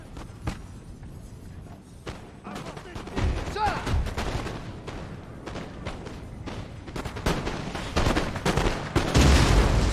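Video-game artillery fires canister rounds amid a dense battle, with repeated sharp cracks and booms of varying loudness scattered over continuous combat noise that builds toward the end. A voice talks at times.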